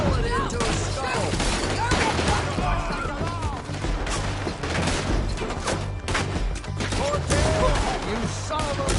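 A Red Dead Redemption 2 shootout in town: dense volleys of gunshots crack and echo across the whole stretch, loud and overlapping, with shouting voices mixed in among the fire.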